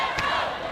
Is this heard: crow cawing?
no